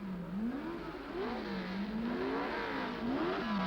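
Period racing engines of a 1962 Lotus 25 and a BRM rise and fall in pitch through repeated revving sweeps, heard faintly and at a distance over a steady background without talk.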